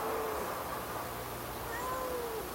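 A cat hiding under a bed in a house gives a couple of thin drawn-out meows, muffled and faint against a steady noisy background.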